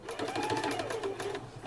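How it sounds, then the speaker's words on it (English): A home sewing machine runs a short tack stitch at the start of a seam while sewing a clothes pin bag, a steady, close whirring motor hum with fast needle clatter that lasts the whole moment. "Mine does a tack stitch at the beginning."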